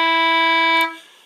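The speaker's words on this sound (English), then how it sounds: "the next note in the scale of C is an E" A single sustained E note on an English concertina, a bright reedy tone held steadily for under a second and then released, leaving a brief fading tail.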